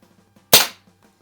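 A single sharp gunshot at outdoor target practice, loud and close, with a short decaying tail and near silence around it.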